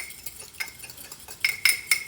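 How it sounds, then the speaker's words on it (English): An egg is beaten for egg wash with a utensil striking a bowl, a few light clinks spread out at first and then several sharper taps close together, close and quiet with no talk. "I'm gonna take this egg. I'm gonna beat this up."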